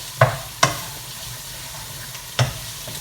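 A spoon scrapes and knocks through pumpkin and bacon pasta in a pan, three sharp clacks spaced unevenly over a soft continuous sizzle, close and moderately loud.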